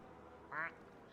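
A single short, nasal quack from a black duck in a video game, brief and moderately loud over a quiet background.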